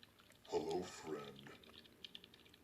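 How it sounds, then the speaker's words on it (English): A short flurry of keyboard typing, soft clicking keys heard faintly alongside a brief voice. "Martin is typing."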